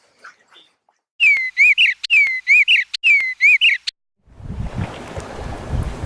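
Bluebirds chirping at Farragut State Park, a clear close series of bright whistled phrases repeated in quick bursts, followed by a soft rushing outdoor noise.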